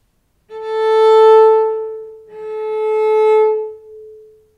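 Two sustained cello harmonics played one after the other, the second on a D string tuned slightly flat, so the matching pitches clash; clean bowed tones with rich overtones, alone and close.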